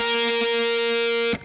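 Distorted electric guitar note from a rock riff, played with a quick slide up three frets; one loud, buzzy sustained tone that cuts off abruptly near the end.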